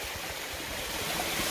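A creek runs beneath a waterfall in a gold-bearing quartz area, giving a continuous close rushing wash of water with no voices.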